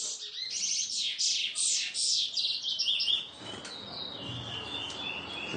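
Picolette birds call during mating, with a rapid run of high, bright chirps and tweets close by, then softer calls over a rustling background.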